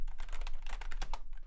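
Rapid keystrokes on a computer keyboard taken from an office, clattering steadily and close up for a second and a half with short pauses between bursts, no voices.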